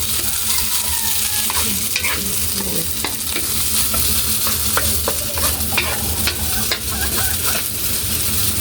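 Beef loaf frying in a pan, a steady close sizzle with scattered stirring scrapes and clinks running continuously throughout, no voices.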